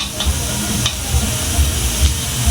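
Pulutan being stir-fried for a New Year's feast, with a loud, steady sizzle and crackle of frying food and occasional scraping stirs, close up with no talking.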